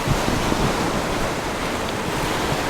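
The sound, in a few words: waves breaking on rocks by the sea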